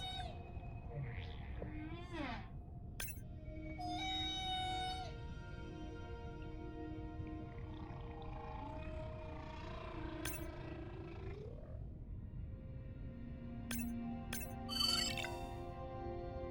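Whale social calls from the Beyond Blue game: varied rising and falling moans, chirps and clicks layered over a constant deep underwater rumble, fairly faint, with no speech.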